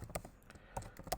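Fast, light keystrokes on a computer keyboard while editing text in Vim, a handful of soft clicks in uneven rhythm, quiet and close with no voice.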